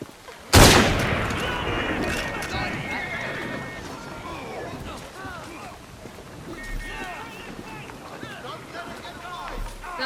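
Gunfire from period weapons in Assassin's Creed Syndicate in Westminster, opening with one sharp loud blast followed by scattered shots and clatter, with voices talking over the action.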